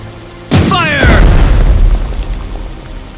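Heavy 400 mm naval guns in the strategy game Strategic Mind: The Pacific fire one loud, sharp blast that rolls into a long, deep rumbling boom.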